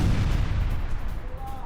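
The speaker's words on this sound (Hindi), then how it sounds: "इजराइल ने बिल्डिंग पर दागी मिसाइलें, ये देखिए शॉट्स के साथ" Israeli missiles strike a Hezbollah building in a residential area near Beirut, a dense rumbling roar of blasts and debris sustained throughout, heavy low-end and loud, with no distinct voices.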